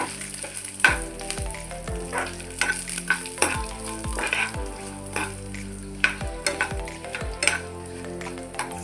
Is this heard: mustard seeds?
yes